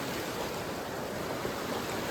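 River water rushing steadily at a forest crossing near Jim Corbett, a dense, continuous, even roar of flowing water that stays loud and close without a break.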